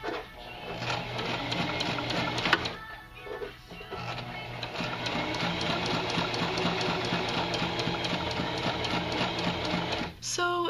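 A home sewing machine runs through two lines of stitches, a steady fast mechanical whirr with rhythmic needle clatter that continues almost without a break, briefly pausing and stopping near the end, close and fairly loud.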